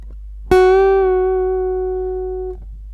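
An electric guitar note on the second string at the seventh fret, bent up a half step and let back down, rings out after a single sharp pluck and fades slowly over about two seconds.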